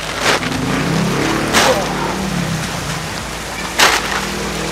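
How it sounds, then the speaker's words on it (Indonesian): A car passes on the street with a broad whooshing rush, and a few louder sweeps rise and fall against steady traffic noise in the background. "Ada mobil ya, sebentar cuy."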